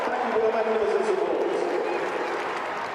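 A crowd at Emirates Stadium applauds during an Arsenal v West Ham women's football match, a dense, steady wash of clapping and cheering, with a commentator talking over it.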